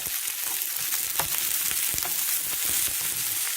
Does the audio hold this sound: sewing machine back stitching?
no